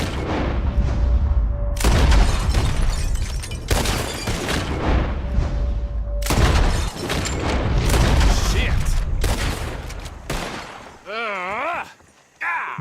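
Repeated loud gunshots booming in rapid bursts in Red Dead Redemption II during a bottle-shooting contest at Horseshoe Overlook, with a few gaps between volleys and a wavering tonal whine near the end.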